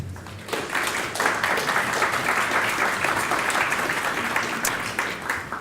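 A lecture audience breaks into warm, sustained applause to welcome a professor, many hands clapping densely and evenly for several seconds with no talk over it.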